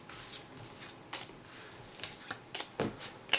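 Caverna board game round cards being handled on a table: soft, intermittent rustles and slides of card stock with light taps, close and quiet, no voices.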